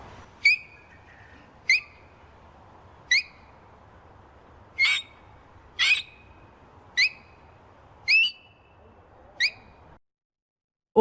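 A child whistles an imitation of a king parrot, giving about eight sharp, high, evenly spaced piping calls, each brief and clear against a quiet background.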